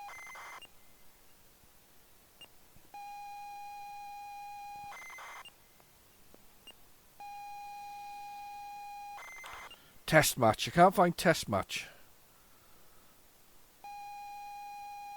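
A ZX Spectrum game loading from cassette tape: steady, buzzy pilot tones lasting a few seconds each, separated by short gaps and clicks. A person speaks briefly partway through.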